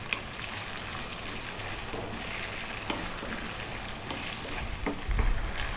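Cubed potatoes fry in a pan with a steady, even sizzle that keeps going throughout, close by, with a slightly louder bump near the end.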